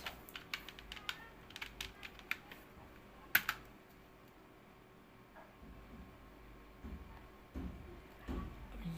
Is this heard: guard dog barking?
no